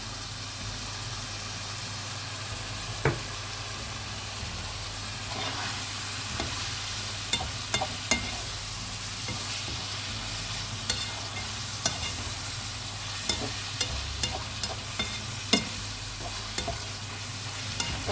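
Minced meat sears in a hot pan with a continuous crackling sizzle, punctuated by scattered scraping stirs and spatula taps, over a low steady hum of a kitchen extractor.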